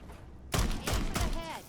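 Several heavy gunshot blasts from Fallout 4 gameplay, three loud broadband bursts in quick succession after a quiet start, with a faint ringing tail at the end.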